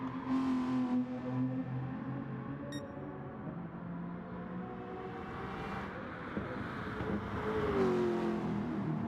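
Gr3 race cars, including a Lexus and an Aston, howl through the Nurburgring hairpin in a Gran Turismo league race, several engines layered loud and close, revving and shifting continuously as they brake and accelerate.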